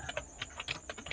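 Quick, light keystrokes on a computer keyboard tap out in an uneven run of about a dozen clicks, close and fairly quiet, with no talking.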